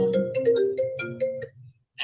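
A phone ringtone plays a repeating melodic electronic phrase for about a second and a half, fairly loud and close, then cuts off into brief silence before another tone begins.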